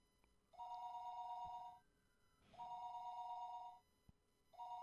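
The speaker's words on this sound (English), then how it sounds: "The phone rang, and I didn't know where the call was coming from" Telephone ringing in the Higurashi visual novel, a bright electronic bell tone in long bursts of over a second separated by pauses, heard three times, clean and alone.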